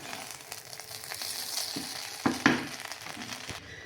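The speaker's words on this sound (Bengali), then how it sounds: "এভাবে আম্মু নাড়িয়ে চাড়িয়ে দিচ্ছে।" Beef biryani stirred in a pot at home, a spoon scraping and turning the rice with soft sizzling underneath, a couple of sharper knocks against the pot midway, steady and close, no one speaking.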